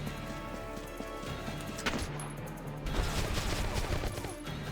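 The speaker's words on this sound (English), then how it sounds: "So many shots just showed up." Dense, rapid gunfire from many weapons crackles and pops continuously in a Valkyria Chronicles battle, loud and sustained with a brief lull before the volley intensifies again.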